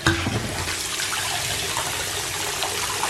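A foaming bath bar fizzes and breaks apart in very hot water, giving a dense, steady hissing bubble wash close by with no voices.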